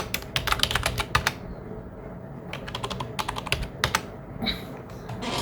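Rapid typing on a computer keyboard while an address is entered, with bursts of crisp close key clicks separated by short pauses.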